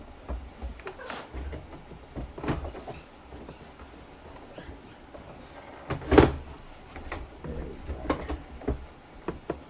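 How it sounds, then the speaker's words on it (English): Near and indoors, a door opens with a soft slide and a couple of muffled knocks, one louder thump standing out among scattered small handling clatters in a quiet room. "You opened the door there"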